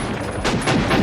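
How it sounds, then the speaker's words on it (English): Rapid film gunfire from two Beretta pistols blazing non-stop in the action movie Double Impact, a loud dense burst of overlapping shots with no gaps. "He's firing in every direction, rolling on the floor with 2 Berettas blazing non-stop"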